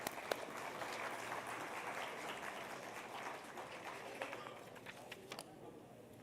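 Conference audience at an economic policy forum applauds to welcome a panel onto the stage, a sustained burst of many hands clapping that thins out toward the end.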